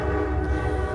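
A passing train's steady low rumble and sustained horn tone fill a single close, loud second with no talking.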